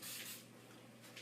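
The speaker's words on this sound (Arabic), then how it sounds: "بس رشة بخاخ الزيت على الوجه عشان تتقمر لنا" Two short hissing bursts of cooking oil spray misted over béchamel-topped Indian-style pasta in a baking tray, quiet and close, with a brief pause between them.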